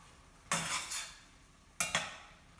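Sauce poured and stirred into a pot of avial, a vegan vegetable stew, giving two short bursts of scraping and splashing with quiet pauses between them, close by and with no voices.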